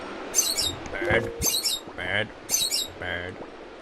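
Video game birds in Zelda: Wind Waker give short high chirps in repeated bursts about every second, alongside brief lower calls and quiet game background, with no talking over them.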